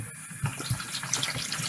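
Running water pours and splashes while chemicals are rinsed off cyanotype prints, a steady close hiss with a few louder splashes and no talking.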